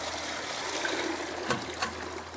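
Water trickling and draining from an ice cream machine during cleanup, a steady faint stream-like hiss with a couple of brief splashes, no talk.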